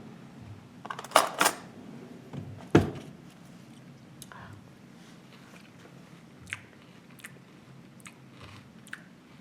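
Someone bites into and chews a chunky chickpea and lentil sambusak filling: a couple of loud crunchy bites up close, then softer scattered chewing and mouth clicks fading into quiet.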